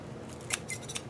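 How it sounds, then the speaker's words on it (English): Scissors cut through plastic wrap in about three quick, crisp snips, close and fairly quiet. "I am going to use some scissors right here to cut this"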